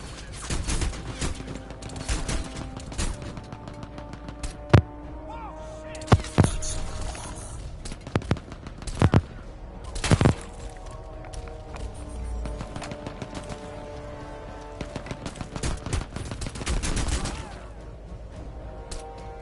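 Gunfire in Crysis 2 cracks out in scattered sharp shots and short bursts over a steady game background, some loud and close, others quieter, with a voice speaking at points.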